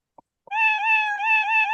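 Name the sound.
cat meowing when clicked in the video game Roblox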